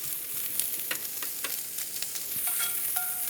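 Pancetta sizzles and fries in hot butter in a cast iron pie tin, a steady crackling hiss with scattered pops and a few light scraping stirs, close and moderately quiet.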